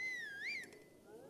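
In The Legend of Zelda: Breath of the Wild, the character gives a single short whistle that bends up and down in pitch and fades quickly. It is clear and alone against faint game ambience.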